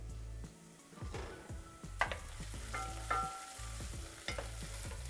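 Onions sautéing in a pan, a continuous soft sizzle with repeated scraping stirs and a few clinks of utensil against the pan, close and steady under a low hum, with no talk.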